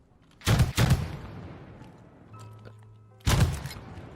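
Two loud, close gunshots from Call of Duty: Vanguard, a quick double burst of blasts followed by a fading echo and then a single shot after a short quiet gap.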